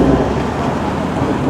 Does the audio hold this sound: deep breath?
no